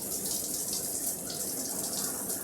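In the video game Katawa Shoujo, a shower runs with a constant broadband rush of falling water, near and steady from start to finish, with no talking over it.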